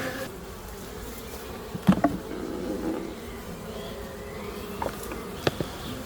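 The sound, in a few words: honey bees buzzing while being moved between hives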